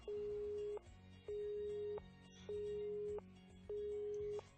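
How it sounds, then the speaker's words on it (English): A cell phone's electronic busy tone after a dropped call: four steady beeps, each lasting under a second and separated by short gaps, sounding thin and moderately quiet over a low background hum. "As a ruthless electronic buzz of the drop call echoed, I stared at my cell phone."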